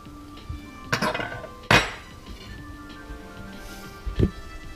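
A crispy, fully cooked salmon and cream cheese chaffle is set onto a plate with a few sharp clinks and clatters of utensil and dishware, spaced apart over quiet background hiss.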